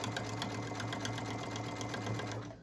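Sewing machine running without the presser foot, stitching a seam while sewing a basket from a dish drying mat: a steady, close mechanical whir with a fast rhythmic tick that slows at the very end.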